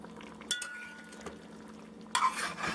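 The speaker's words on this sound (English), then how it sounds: "you just want to stir your boiled eggs into the aloo" Boiled eggs are stirred into curried potato aloo in a pot, with faint spoon clinks and scrapes, then a louder burst of stirring and bubbling near the end.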